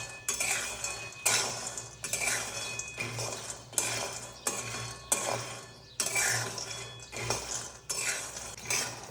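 Peanuts for chikki roast in a metal pan while a spoon stirs them in regular, repeated scraping sweeps about once a second. The rattling and clinking come through close and clear, with no talking.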